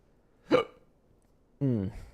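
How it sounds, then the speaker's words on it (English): Two quiet hiccups, each a short, isolated burst separated by about a second of near-silence; the second is more voiced and drawn out. "Nice hiccup."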